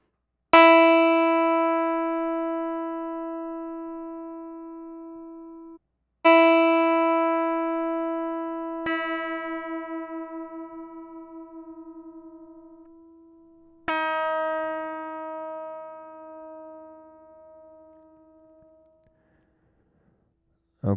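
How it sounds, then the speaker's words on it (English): The high E string of a guitar is plucked alone and left to ring and decay, repeated several times with long sustained notes and a slight beating waver that hints it is a little out of tune. "we can hear that my high E string is out of tune slightly"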